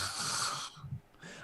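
A voice imitates loud snoring for a sleeping character in a tabletop game session: a long rasping, wheezy inhale followed by snorting snuffles and a shorter second breath, close and alone with no talk.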